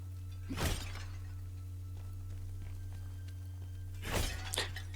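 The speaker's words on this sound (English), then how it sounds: "I was just smashing these jars" Clay jars smashed in The First Berserker: Khazan in the Charnak Mountain Range: two sharp, crashing shatters about three and a half seconds apart over a steady low hum, with no talking.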